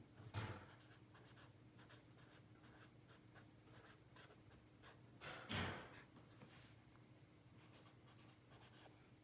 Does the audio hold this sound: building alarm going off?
no